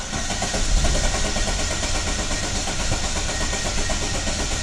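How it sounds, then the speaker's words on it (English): Car engine cranking on the starter with the fuel pump fuse pulled, so it never catches: a steady, loud, continuous churning drone that keeps its level throughout, with no talking. "I'll go over and start cranking it"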